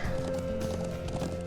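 A horse's hooves clop steadily in the Trails of Cold Steel game, a quick running rhythm of soft thuds over a sustained musical tone, with no voices.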